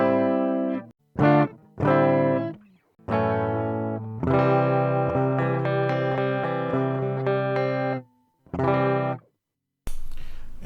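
Electric guitar played through a Boss BD-2 Blues Driver pedal set to 25% level, 25% tone and 0% gain, giving clean, lightly colored strummed chords and notes in short bursts separated by pauses, with a brief noisy burst at the end.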